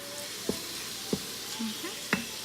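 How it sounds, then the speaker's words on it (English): Pad Thai ingredients frying in an Instant Pot pressure cooker give a steady low sizzle, broken by three sharp clacks of a utensil scraping and stirring against the pot. "So I want that to kind of fry up in here a little bit."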